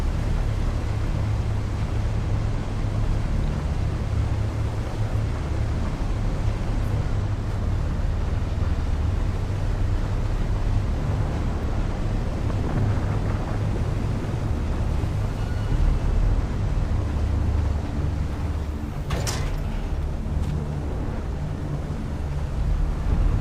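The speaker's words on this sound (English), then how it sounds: "Oh damn, storm is coming." Sandstorm in the game Dune: Awakening, a continuous loud roaring wind rush with deep rumble throughout and a brief sharp crack late on, no talking.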